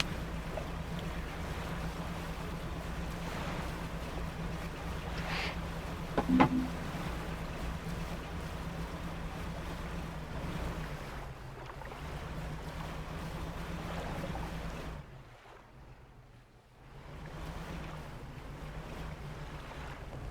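In the game Dredge, a fishing boat with upgraded engines cruises with a steady low engine drone under wind and sea wash. A couple of brief splashes or knocks come midway, then the sound drops away briefly before resuming.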